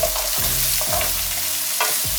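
Mushrooms fry in oil with a continuous loud sizzle, while a utensil stirs and scrapes through the pan in repeated strokes.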